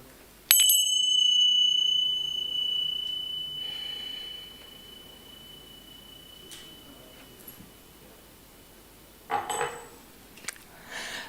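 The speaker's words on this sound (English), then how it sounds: "we sound a chime, which I can do, to center ourselves" A single bright chime rings out clearly in a quiet room at a church service, its pure tone sustaining and slowly fading over several seconds, followed by faint rustling and a few soft knocks.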